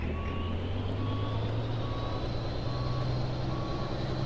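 A truck in American Truck Simulator reverses toward a trailer, with a steady run of evenly spaced beeps over a constant low engine drone, close and clear.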